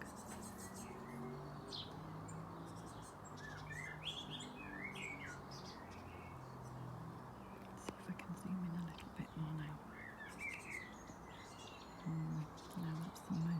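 Great tits chirping and calling in a garden, brief faint tweets scattered over a steady outdoor hum, with a soft whispering voice in places.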